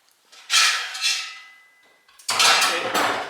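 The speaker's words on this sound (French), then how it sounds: "On va enlever notre couvercle." Metal lid lifted off a large canning pot in a kitchen, a close clatter and scrape of metal followed by a softer ringing, then a second rattling clank as the lid is set down.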